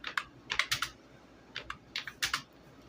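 Crisp keys on a computer keyboard are struck in two quick bursts of several clacks each, close and distinct, separated by a short pause, with no talking.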